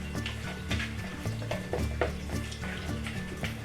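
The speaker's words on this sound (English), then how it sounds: "Scrape all your sides down" Chocolate fudge mixture being scraped from the sides of a pan with a spatula, a close, steady series of soft scrapes and stirring strokes with light utensil contact, no voices.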